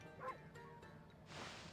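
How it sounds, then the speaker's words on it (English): Ammy the wolf from the video game Okami gives a short, high, enthusiastic bark and yip, quiet and brief, followed by a soft game sound effect. "I like that enthusiastic bark."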